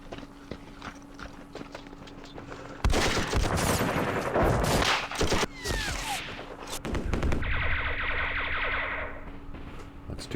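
Gunfire in the wargame Campaign Series Vietnam, a dense stretch of loud crackling volleys and clattering shots that gives way to a softer rhythmic tapping and a steady electronic hum.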